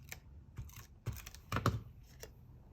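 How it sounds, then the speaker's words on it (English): Tape being torn and pressed onto the cut tips of paper during a layout craft project, heard as brief crinkly rips and rustles at moderate closeness, with scattered soft handling clicks. "So I'm going to put some tape on the very tips of them."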